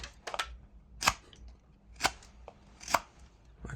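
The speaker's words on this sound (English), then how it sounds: "And now we can cut out all of this wood. This bit requires just a few rough cuts." A knife makes a few rough cuts into wood during whittling, three sharp snapping cracks spaced about a second apart with softer scraping between, close and fairly quiet, no talking.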